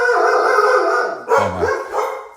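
Household dogs at night bark and howl loudly indoors at people walking their dogs down the street, a long sustained howl broken by a couple of sharp barks.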